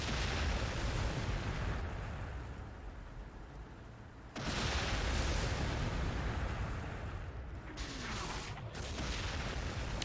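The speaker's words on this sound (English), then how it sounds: "That's a lot of firepower coming in." Incoming artillery fire pounds the battlefield in Close Combat: The Bloody First, a dense, roaring barrage of overlapping explosions that swells again midway and keeps rumbling loudly and continuously throughout.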